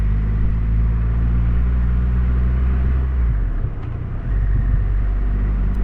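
Triumph Rocket 3R motorcycle engine rumbling steadily with a deep, loud drone, dipping briefly as the bike pulls away, then resuming its low throttle roar.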